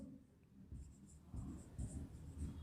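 Chalk or pen writing on a board or paper during a class-ten geometry lesson on circle theorems: short scratchy strokes in uneven bursts, fairly close and quiet, with no talking.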